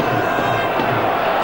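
A packed Charlton football crowd in a stadium roars in a dense, continuous wash of cheering and chanting, loud and unbroken, during a 1995/96 FA Cup third round match against Sheffield Wednesday.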